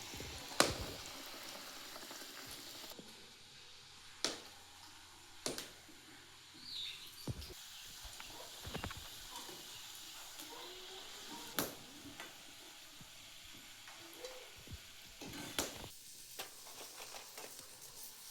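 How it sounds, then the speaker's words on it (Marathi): Vegetables frying in a home kitchen pan, a soft continuous sizzle broken by scattered clicks and clatter of utensils stirring, faint and close throughout. "तर पटपट तळून घेते आणि मग भाजी बनवते"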